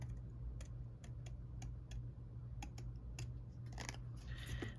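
Scissors snipping paper for a scalloped postage-stamp edge, a run of faint, irregular clicks and snips over a low steady hum.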